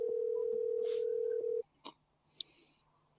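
A telephone tone rings steadily for about a second and a half while a caller waits for an answer, then cuts off, leaving a few faint clicks and brief noises behind.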